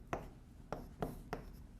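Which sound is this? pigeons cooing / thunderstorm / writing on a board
writing on a board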